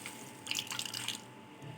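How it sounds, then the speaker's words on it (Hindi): Water drips and trickles as grated potatoes are squeezed by hand for hash browns, a short, soft run of splashing droplets that fades after about a second, with no talking. "इसको अच्छी तरह से निचोड़ के इसका पानी निकालना है।"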